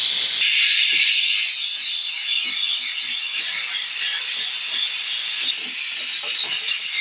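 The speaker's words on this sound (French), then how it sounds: "je vais donc utiliser la buse simple de jet vapeur" A Polti Vaporetto SV440 steam mop fitted with a single jet nozzle blasts steam onto a sink, giving a loud, steady hiss that runs for the whole stretch with faint clicks and taps beneath it and no voices.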